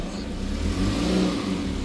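A Kia Seltos SUV pulls away with a steady mid-pitched engine hum and whir, close and moderately loud, holding fairly even over a short stretch.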